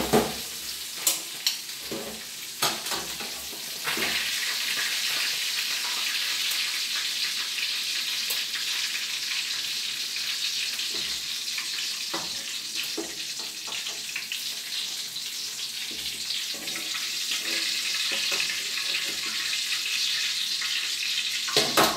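Tulingan (bullet tuna) frying in a pan, a steady loud sizzle that runs unbroken for the whole stretch, with a few faint clinks and scrapes near the start.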